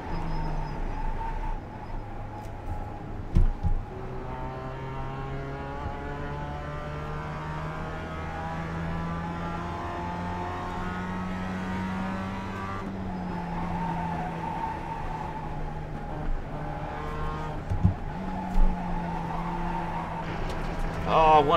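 Race car lapping in an iRacing qualifying run, a steady, close engine drone that rises and falls through gear changes and corners, with brief thumps along the way.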